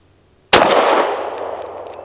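A single sharp gunshot from a Tisas PX 9 Duty Comp compensated 9mm pistol firing Winchester Defense 147 grain ammunition, loud and close, with a bright crack that rings out into a decaying echo over about a second and a half.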